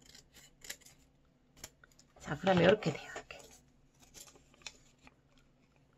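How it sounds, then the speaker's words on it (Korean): Scissors snip through folded colored paper in a brief cluster of crisp cuts, close and quiet, while someone talks calmly around them. "이 상태를 그대로 잘라줍니다"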